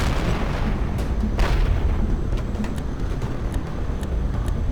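Continuous combat din from the Tom Clancy's HAWX 2 aerial video game, with steady rumbling gunfire and dull explosion booms layered throughout, one sharper blast near the start, loud and dense with no clear gaps.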